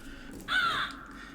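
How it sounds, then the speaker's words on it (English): A crow caws outdoors in one harsh, drawn-out call that rises abruptly and holds for about half a second before fading, set against quiet room background with no talking. "He's gonna be crowing every minute today."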